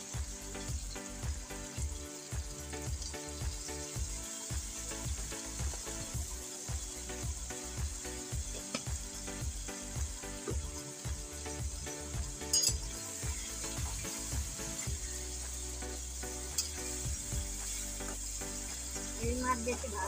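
Fish sizzles steadily in hot oil in a pan, a close and continuous frying hiss with faint clinks of utensils throughout.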